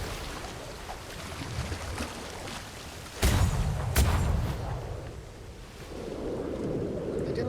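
Ship cannons fire in a Royal Navy naval roleplay game. Two booming shots land about a second apart over a steady bed of wind and ocean noise. They are fairly loud against the background, and faint voices murmur in the mix.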